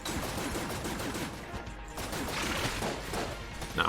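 Rapid, dense gunfire from the Rubidyne Mark II and a backup gun in the video game Enter the Gungeon crackles continuously in quick bursts, loud and busy throughout.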